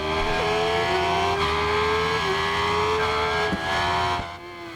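Yamaha FZ 1000cc motorcycle racing in Ride 5, its engine note rising and dropping sharply as it brakes hard into a chicane and powers back out, loud and continuous with no talk.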